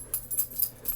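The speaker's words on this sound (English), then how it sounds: "My puppy's here." A pet puppy gives a few short, high whimpers in a quiet room, spaced apart over about a second, close by and fairly faint.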